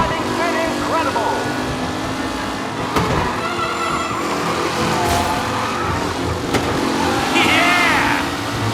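Race cars roar through a race in the game Mafia Definitive Edition, engines droning steadily and loud close up, with tire skids and a commentator talking over the action.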